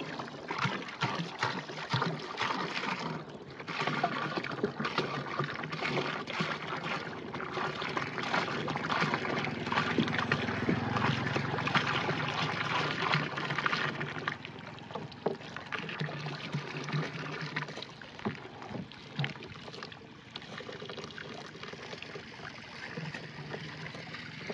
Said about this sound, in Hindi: ये पोटाश डाल दें।